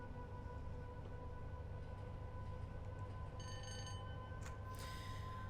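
A train pulls out of Lancaster in the simulator Train Sim World 5 on the Preston to Carlisle line, a steady low rumble with faint squealing tones from the wheels, distant and quiet, with no talking.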